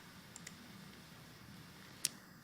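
Faint mouse clicks in LP360 software: a couple of soft, quick clicks early on, then one sharper, crisper click near the end, against a quiet background.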